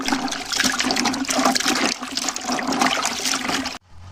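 Tap water runs steadily into a sink while carrots are washed, a loud continuous splashing rush that cuts off abruptly near the end.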